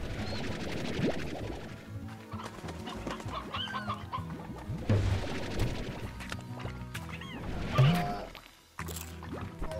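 Chickens cluck in the video game Slime Rancher, with several short, bubbly clucks scattered across a busy background of game sounds and low rumbling.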